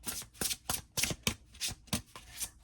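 Tarot cards from an Elisa Seitzinger deck are riffled and fanned out close by, giving about ten quick crisp rustling bursts in an even rhythm, with no talking.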